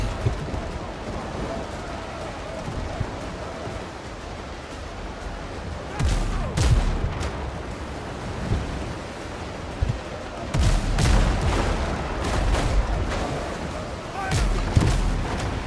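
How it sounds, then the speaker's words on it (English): Ship cannon broadside fire at sea in the pirate video game WindRose: sharp booming shots go off in bursts over a steady wash of wind and waves, with several closely spaced volleys, moderately loud. "Broadside. Boom, boom, boom, boom."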